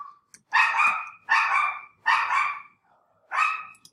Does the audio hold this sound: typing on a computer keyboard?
no